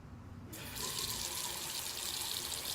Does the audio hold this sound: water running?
yes